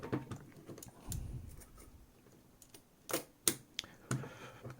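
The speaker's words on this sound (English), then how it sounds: "draw the film across." Film being threaded into a Konica IIA rangefinder camera: small mechanical clicks and scrapes of film and metal parts, a few sharper snaps near the end, close and fairly quiet with no talking.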